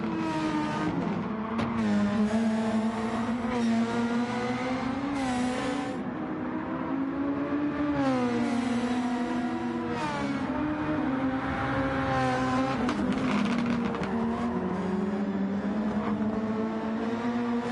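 Super Formula race cars lap Laguna Seca in a racing video game, with a continuous high engine whine that rises and falls through gear changes and corners, loud and unbroken, with no talk over it.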